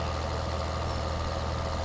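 Tractor engine in Farming Simulator 2013, a steady low droning rumble held at constant loudness, close and alone with no talking.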